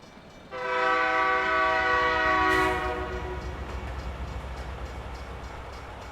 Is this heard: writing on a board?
no